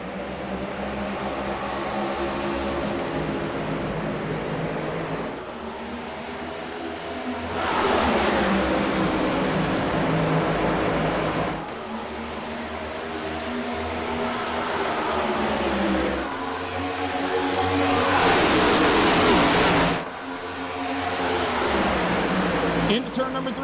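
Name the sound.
NASCAR stock cars racing at restart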